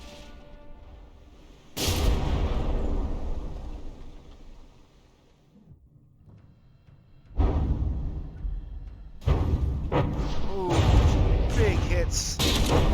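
Battleship artillery fire in From the Depths, a tournament brawl between Blademaster and Bubblegum: heavy booming salvos and whooshing impacts in several loud bursts, with a calmer stretch between them.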